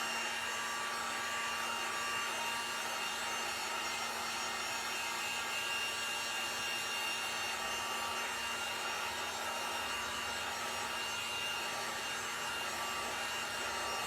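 A steady whirring drone, like a hair dryer, runs close and unchanging for the whole stretch while painted, glued Jenga blocks are dried, with no talking.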